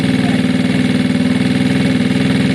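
A Gilera DNA motorbike engine idles on its stand with a loud, steady, close-up rhythmic chugging and throb that holds an even pulse throughout, with no talking.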